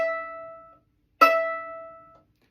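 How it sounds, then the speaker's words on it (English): A violin's open E string, its thinnest and highest-pitched, rings out in two bowed strokes of a high, clear sustained note, each fading away, with a brief pause between. "the E string, which is the thinnest string on the instrument and also the highest pitched string"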